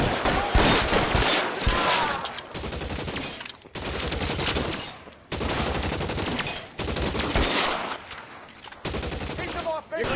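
Video game gunfire aimed at gasoline barrels: loud rapid-fire volleys of shots in several long bursts separated by brief pauses, dense and close.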